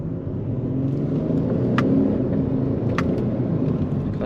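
An Audi S4 TDI diesel car accelerating, heard as a deep, steady engine rumble with rising drone and a couple of brief clicks, close and continuous, no voices.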